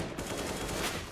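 Rapid AK rifle fire crackles in bursts in a Counter-Strike match on the de_train map, loud and dense and continuing without a break.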